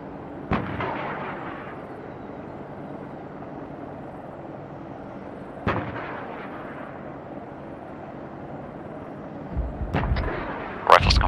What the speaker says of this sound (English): Wait, that's basically artillery fire.